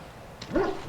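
A hound in Dragon Age whimpers and yips in a quick rising whine, close and clear, with no talk.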